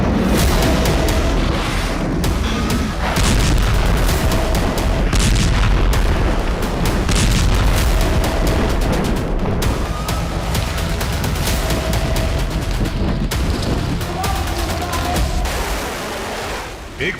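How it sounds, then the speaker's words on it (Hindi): Missile attack explosions in the Red Sea roll on as a dense, continuous barrage of booms and rumbling blasts, loud and sustained throughout with no clear gaps. "एक बार फिर लाल सागर का इलाका मिसाइलों के हमलों से दहका"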